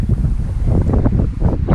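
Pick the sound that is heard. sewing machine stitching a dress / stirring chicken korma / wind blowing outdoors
wind blowing outdoors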